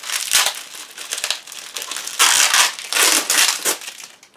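Blade slicing and tearing through heavy packing tape on a cardboard box holding a Rowenta Tonixo cylinder vacuum cleaner, a close series of crackling, crinkling rips in uneven bursts with brief pauses, no talking.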